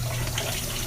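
Water running from a tap into a bucket in a bathroom, a brief steady gushing rush, close and loud.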